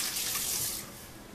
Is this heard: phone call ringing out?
no